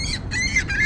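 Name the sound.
seagull squawking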